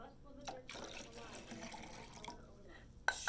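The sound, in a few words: water being poured into a pitcher for lemonade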